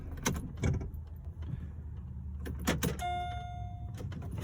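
A Pontiac G6 GT with an electric power steering fault is switched off, giving a few clicks and knocks of the key and switchgear followed by a steady faint electronic tone while the engine hum stops, close and fairly quiet.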